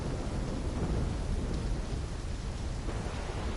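Steady, dense roar of a thunderstorm with heavy rain in the Black Ops 3 video game, continuous and loud throughout with no distinct breaks or voices.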